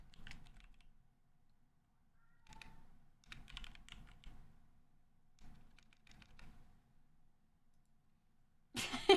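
A computer keyboard is hammered hard in several separate bursts of clattering keystrokes, fairly quiet and close, with short silent gaps and a sharp noise at the very end.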